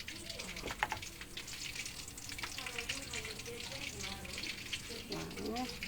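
Tempe mendoan and stuffed tofu with bean sprouts frying in hot oil: a dense, continuous crackling sizzle with bubbling pops, close by, with faint voices in the background.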